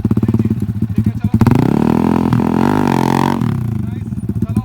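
A motorcycle rides and leans through stunt practice at a bike stunt academy in Delhi, its engine loud and near with a pulsing idle that swells into a sustained rising rev before dropping back to a chugging throb, while someone talks over it.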